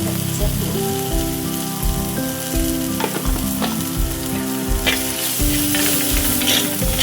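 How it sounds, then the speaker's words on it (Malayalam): Loud, crackling sizzle of spices frying in hot coconut oil, continuous and close, with occasional stirring scrapes and no talking. "ചൂടായ എണ്ണയിലേക്ക് വെളിച്ചെണ്ണയിലേക്ക് ഈ വയറ്റിലൊക്കെ എല്ലാം ഒന്ന് വഴറ്റിടുക"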